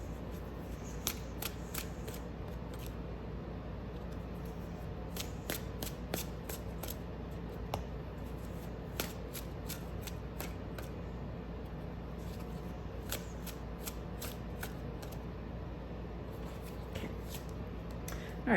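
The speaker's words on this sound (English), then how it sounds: "Let's get some more cards out." Tarot cards being shuffled by hand, a quiet, steady patter of crisp flicks and riffles repeating through a soft background hiss, close but faint with no talk.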